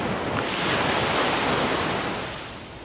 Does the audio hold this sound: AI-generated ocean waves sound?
yes